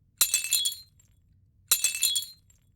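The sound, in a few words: glass cracking sound effect for a windshield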